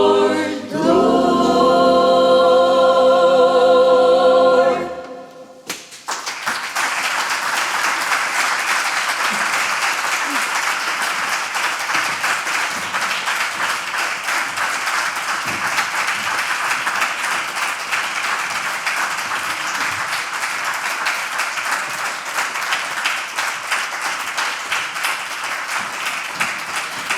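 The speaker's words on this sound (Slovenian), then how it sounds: "Najlepša hvala za tako lepe aplavze" A concert audience at a charity music festival applauds. A sung musical ending fades into sustained, dense clapping from a large crowd that continues steadily for over twenty seconds.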